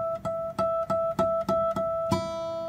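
Guitar played with a pen and index finger resting on the twelfth fret, sounding the first string as a harmonic; seven evenly spaced bell-like plucked tones, close and clear, the last ringing out longer.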